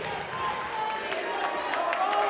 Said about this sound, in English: This crowd is rocking.